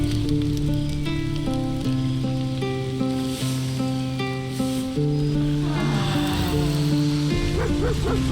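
Dog barking in Baldur's Gate 3, a few short barks and yips heard over steady game music with sustained tones, with no speech.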